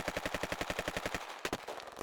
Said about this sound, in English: The night echoed, with the thunder of gunfire